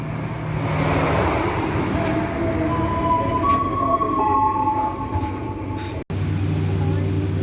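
The Tawang Jaya economy-class train pulls out of Jatibarang station with a loud, steady interior rumble and rising whine, a brief cutoff near the end, and voices audible under the noise.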